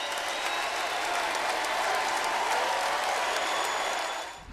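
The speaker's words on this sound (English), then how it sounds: "the same fans who once despised him gave him the loudest ovation when he said" A wrestling arena crowd gives Edge a long, loud ovation at his goodbye: dense, steady applause and cheering from a large audience, sustained throughout before easing off at the end.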